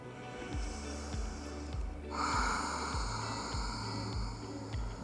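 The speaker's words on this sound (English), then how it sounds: "Let's take 3 deep breaths through the nose" Slow, deep breaths drawn in and out through the nose during a King Cobra yoga pose, close and steady, with a long inhale swelling into an audible exhale.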